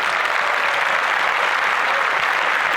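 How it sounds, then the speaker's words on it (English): Loud, continuous applause from an audience, a dense even roar of clapping with no gaps, heard alone without talk. "Round of applause to them."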